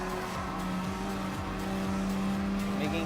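Renault Megane Trophy race cars battle for position in Gran Turismo Sport, a loud, sustained engine drone with gear changes and rising revs as cars overtake one another.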